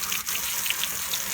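Water running steadily from a hose or tap, rinsing paint-removal solution off a car rim, a close, even splashing gush with no talking.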